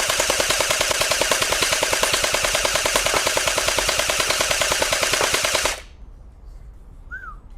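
A Watersoft M416 Orbeez gel-ball toy blaster fires a long, rapid stream of closely spaced, even shots, loud and near, that stops abruptly, leaving a quiet tail with a brief faint whistle.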